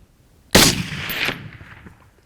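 A single loud rifle shot fired at a wild aoudad sheep on a West Texas hunt, a sharp close blast that rolls into a long echoing rumble and fades over about a second and a half.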